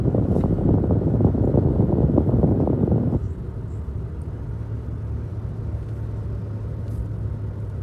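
A Toyota Tacoma driving on a road in Niger, a steady low engine and road rumble with wind noise, louder for the first three seconds and then settling to a quieter continuous drone.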